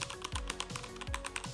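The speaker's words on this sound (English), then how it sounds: "It is a mechanical keyboard" Rapid typing on a basic, inexpensive mechanical gaming keyboard, with close, crisp key clacks in a steady, uneven rhythm and a few heavier thuds, likely from the spacebar, with no talking.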